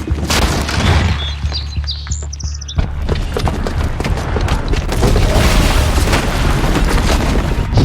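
A booby-trapped bomb goes off in Horizon Zero Dawn. Bright chirps come first, then a sudden loud boom that rolls on into a long, dense rumbling wash of debris and noise.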